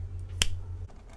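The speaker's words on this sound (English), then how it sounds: "So I'll snap my fingers and have this automatically appear." One crisp finger snap, close and clear, over a low steady hum.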